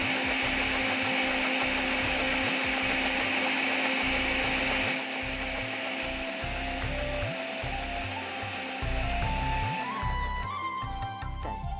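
A kitchen grinder whirs steadily, blending cashews into a fine, smooth paste for a thick butter chicken gravy; the loud continuous motor drone shifts pitch slightly partway through as the mixture thins, with no voices over it.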